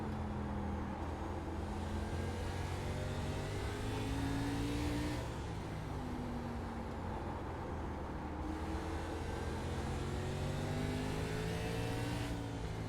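A race car engine accelerates in a racing video game, revving and climbing through gears in repeated rising whines over a constant dense roar, with other cars droning nearby, no voices.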